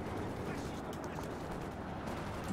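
Katyusha rocket artillery and gunfire in the strategy game Company of Heroes 2, a dense, continuous rumble of battle noise throughout with a slight swell at the very end.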